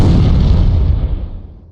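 Cannon towers firing in the strategy game Port Royale 2, a loud booming blast that fills the moment and then rumbles away over about a second and a half.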